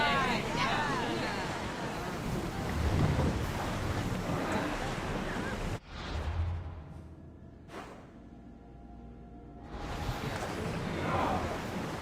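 A ship sails the open sea in Assassin's Creed Odyssey on PS5, with steady wind, rushing waves and creaking hull filling the scene, briefly dropping away before swelling again, with game voices talking over it.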